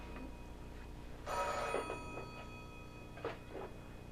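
A telephone bell rings in a quiet room, sounding in two short bursts with a pause between them, with a faint steady hum underneath.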